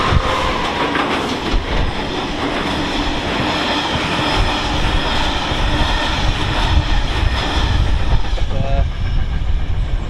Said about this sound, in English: freight service number 2 of the day will be another Class 66.